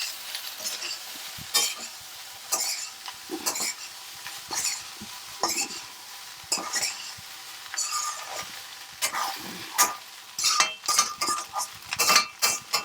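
Egg fried rice being stirred and tossed in a pan, a metal spatula scraping and clinking in rapid irregular strokes over a soft sizzle, close and steady.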